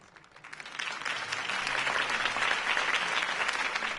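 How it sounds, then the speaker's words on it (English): A video game crowd breaks into applause after a campaign speech, swelling quickly from quiet into sustained, dense clapping that holds steady to the end. "could have heard that applause"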